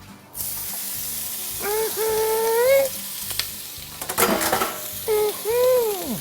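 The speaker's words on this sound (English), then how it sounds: "Yep, I hear the grease popping." Tasso frying in hot grease in a pot, a steady loud sizzle with scattered pops and scraping stir sounds. A high whistling tone rises and falls over the frying.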